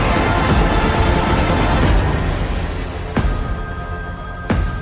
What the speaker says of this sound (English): Pick up the phone, James